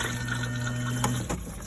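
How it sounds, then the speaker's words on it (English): A campervan toilet's flush pump hums steadily for about a second, pushing fluid through, then cuts off with a short click and gurgle. "Toilet, it's a case of pushing this button down for your flush fluid"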